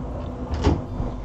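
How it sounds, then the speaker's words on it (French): A door pushed shut indoors, a single soft thud with a brief rattle midway through, over a low background hum. "je vais fermer la porte"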